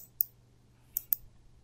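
Three short, crisp clicks from an Enter key on a computer keyboard, one early and then two close together, alone in a quiet room.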